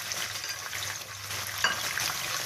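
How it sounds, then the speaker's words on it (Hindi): Chicken pieces fry in hot melted ghee with a steady close sizzle and crackle, plus a brief clink of stirring partway through, without any talking. "अब यहाँ पे चिकन डाल दें और इसको फ्राई करें।"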